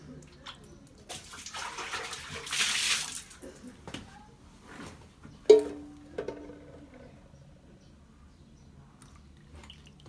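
Water sloshes and splashes as mud and soil are rinsed off freshly dug underground food in a basin, with intermittent splashes and one sharper clatter midway, fairly close and moderate in level.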